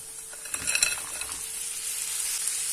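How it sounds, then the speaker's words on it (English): Frozen vegetables tipped into a hot pan for beetroot wraps, giving a burst of clattering and stirring, then a steady, close hissing sizzle. "Thereafter, you want to add in the frozen veggies."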